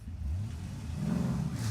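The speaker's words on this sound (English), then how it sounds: "a car was just driving off" A car engine revs and pulls away in a short radio drama sound effect, a close rising motor hum lasting under two seconds.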